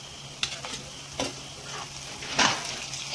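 Onions frying with ginger-garlic paste in a pan, stirred with a few distinct scraping strokes over a steady sizzle, the loudest stroke near the end.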